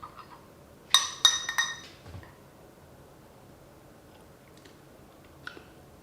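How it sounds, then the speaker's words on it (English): A spoon clinks against a cup while crema is stirred into Nespresso coffee, a quick cluster of three or four bright metallic taps, then quiet with one faint tap later. "So let me mix that crema into the coffee and see if that does anything to this one"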